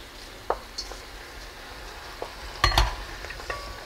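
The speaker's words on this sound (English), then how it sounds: "So these are dandelion greens. We're going to let these braise." Dandelion greens braising in a pot, with soft sizzling under scattered stirring and scraping clicks, including a louder clatter near the end.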